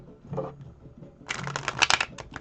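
A Robin Hood card deck is riffled and shuffled up close, a soft rustle early on giving way to a dense, crisp burst of flapping card clatter, with no talking.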